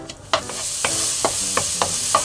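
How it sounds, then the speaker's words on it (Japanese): Ingredients are stir-fried over low heat in a pan, with a soft steady sizzle broken by about six sharp scraping strokes of a utensil at a regular rhythm. "弱火で軽く炒めます。"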